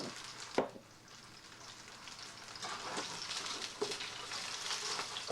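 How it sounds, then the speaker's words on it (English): Fish fries in a pan with a soft, continuous sizzle and crackle, joined by a few sharper pops and clatters, heard quietly with no voices. "And now we fry it."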